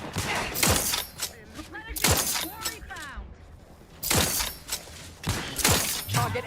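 Gunfire in The Outer Worlds 2 sounds as sharp bursts of shots with shattering impacts, three main volleys separated by brief pauses, with bits of game dialogue between them.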